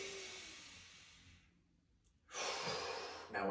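Slow, deep breaths during a warm-up exercise, a long exhale trailing into quiet and then a full, close inhale drawn through the mouth, with no talking.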